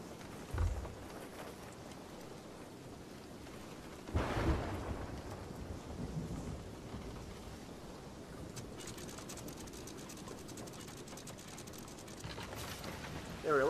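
A thunderstorm at sea in the video game Sea of Thieves: a steady roar of wind and rain with heavy thunder-like rumbles bursting in near the start and again around four seconds, then continuing as a dense, unbroken storm wash.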